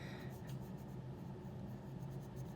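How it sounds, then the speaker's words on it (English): Colored pencil scratching steadily across paper while coloring in a drawing, a soft continuous close-up rasp with faint stroke rhythm and no speech. "So I'm coloring that all in."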